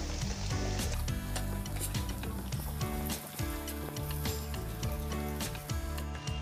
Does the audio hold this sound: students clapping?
no